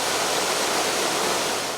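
Water surges through all eight opened sluice gates of the Daduroya reservoir, each raised twenty feet, a steady, loud, broadband roar that holds unbroken throughout.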